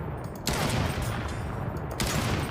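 Sniper rifle firing in a game engine, two sharp gunshots spaced about a second and a half apart over a steady noisy background.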